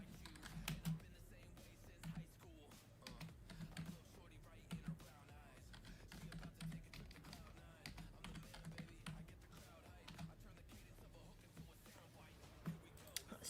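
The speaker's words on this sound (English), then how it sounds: "Let me type to Becky." Quick, uneven tapping of keys on a computer keyboard while playing FC 24 career mode, a steady patter of light clicks with occasional louder strikes, near and fairly quiet.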